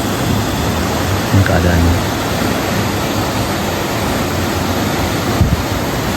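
A river rushes steadily near the spot where an elderly woman was swept away, its broad, constant roar of flowing water continuous throughout, with someone speaking briefly over it.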